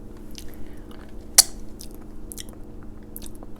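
Homemade Raising Cane's style chicken fingers bitten and chewed up close, one sharp crunchy bite followed by quiet, soft mastication sounds in a calm room.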